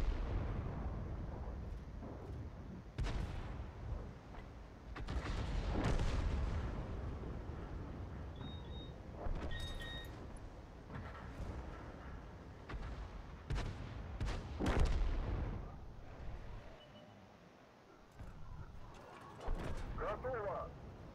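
Tank cannon shots fired at heavy tanks in a tank battle video game, several booming reports spaced irregularly through the clip, with someone talking over the game sounds.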